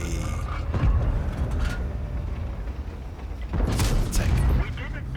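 Tank cannon fire in World of Tanks, a heavy gun shot striking the lower plate of a Tier 9 Mauschen during a Tier 10 Chinese heavy tank battle; booming blasts and mechanical clanks over rumbling battle noise, with a commentator talking throughout.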